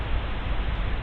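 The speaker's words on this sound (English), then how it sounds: "Only a burst of static answers me" A short burst of radio static in a visual novel: steady, dense hiss filling the whole moment at even loudness, with no voices.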